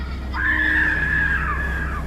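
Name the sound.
screaming sound effect in a horror story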